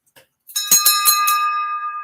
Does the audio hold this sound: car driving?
no